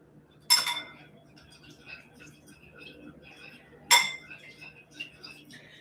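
Vegetables and ginger are mixed in a bowl, with two sharp utensil clinks against the dish and lighter scraping and tapping in between. The sounds are close and fairly quiet, with faint talk in the background.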